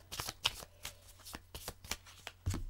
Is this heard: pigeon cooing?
no